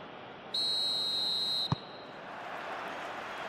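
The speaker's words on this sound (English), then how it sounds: "There's the whistle, and here we go." A referee's whistle opens an under-17 football match between Australia and Nigeria, one sustained shrill blast of just over a second, sharply cut off, over a constant wash of stadium crowd noise.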